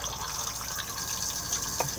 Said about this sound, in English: to flush, just on the blue button just here